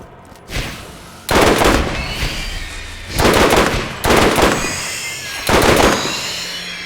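Short bursts of gunfire from a burst-fire video game weapon: four loud, sharp volleys about a second apart, each a tight cluster of rapid shots ringing out alone with no talk.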